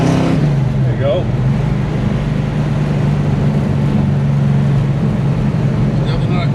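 A car fitted with a Tremec manual transmission cruises in fourth gear at 2,400 RPM. Its engine gives a steady, loud, low drone under continuous in-car talk.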